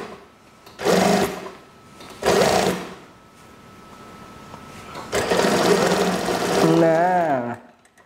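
A sewing machine stitches the armhole of a school shirt sleeve in short, loud whirring bursts, then a longer steady run, while someone speaks over the stitching.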